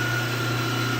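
MTU diesel generator engine running steadily at 1800 RPM, a constant loud drone with a strong low hum and a thin high whine, no breaks or talk.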